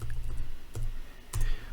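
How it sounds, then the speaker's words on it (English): A computer keyboard key being pressed, a few distinct sharp clicks spaced apart, close and fairly loud with no talking. "Then you can hit the tab key on your keyboard and then say heading H4."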